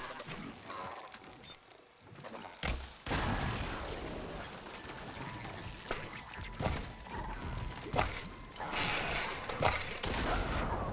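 Gunfire in a video game: bursts of shots and explosive booms over a continuous noisy battle bed, loud and close, no voices.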